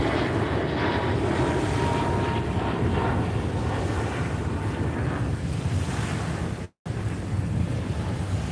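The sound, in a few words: airplane flying overhead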